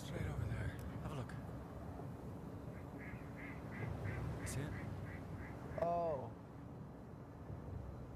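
A rare Barrow's goldeneye duck gives a run of soft quacks, then a louder, sharper call nearby, over steady outdoor background noise while people talk quietly.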